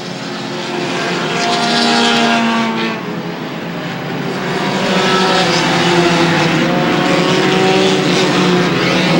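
Race cars running side by side at Airborne Speedway in Plattsburgh, NY, their engines layered in a loud, continuous roar that rises and falls as they pass. Close and dense, with no talk.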